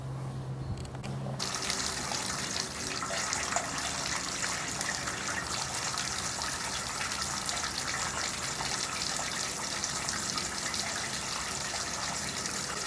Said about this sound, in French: Avec une quantité non négligeable d'aiguilles, nous simulons une averse pour les faire tomber sur le système d'Ari